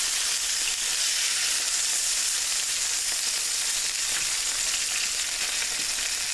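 Taco burgers sizzle loudly and steadily in a cast iron pan after being flipped, a dense, continuous frying hiss with no talking over it.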